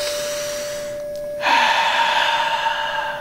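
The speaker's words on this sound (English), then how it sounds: "right, breathing." A breath within a music track: a sharp intake around the middle, then a sustained airy exhale-like wash over a steady tonal drone, fairly loud and close, with no talking.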